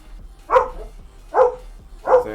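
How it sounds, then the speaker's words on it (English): Dogs barking at home at someone's arrival: three loud, sharp barks spaced evenly about a second apart, close to the listener, with quiet between them. "the dogs go bark because mom's home and they want to go outside"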